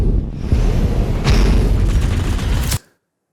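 Large guns fire in a space video game, a continuous loud rumbling barrage of heavy booming shots that rolls on for a few seconds before cutting off abruptly into silence.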